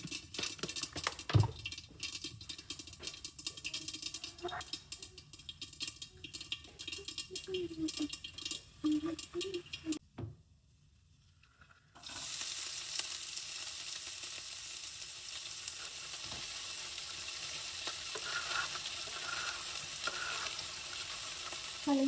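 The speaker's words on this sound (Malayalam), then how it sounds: "ഇനി നമുക്ക് ആവശ്യത്തിന് കടുകിട്ടിട്ട് വേഗം മൂടി വെച്ചിട്ട് മാറി നിൽക്കുക" Mustard seeds spluttering and sizzling in hot oil in a covered pan, a steady dense crackle with brief quieter gaps and a short near-silent pause before the frying resumes even louder.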